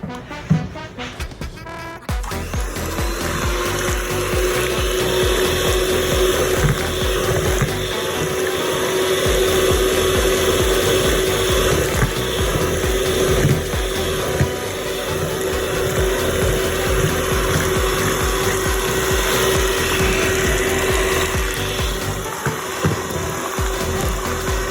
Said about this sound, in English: we're gonna blend this again